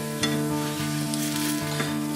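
French toast frying in a hot pan while being pressed against the surface, a continuous close sizzle with a faint steady hum and small scraping ticks at regular intervals, no speech.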